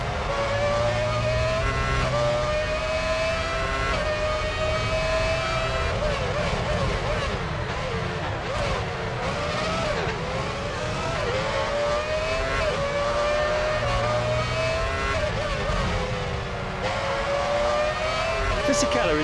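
An F1 race car in the video game F1 Championship Edition at the Malaysia circuit, its engine screaming continuously at full speed with rising and falling pitch as it shifts gears, loud and close, while a commentator talks over it.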